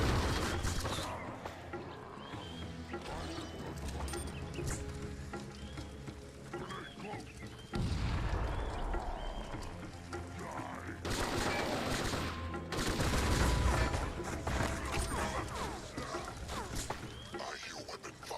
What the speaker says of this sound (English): I hear weapon fire.